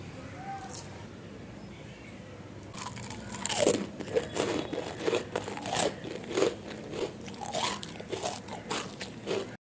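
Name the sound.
crunching crispy snacks made from leftover rice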